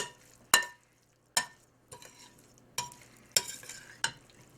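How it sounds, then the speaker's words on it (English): Tomato mixture for a cheddar cornbread-tomato bake being tossed and stirred in a bowl, giving six sharp, close scraping and clattering bursts in an irregular rhythm over low background hum, with no talking. "So we'll add that to our tomato mixture. Give it a toss."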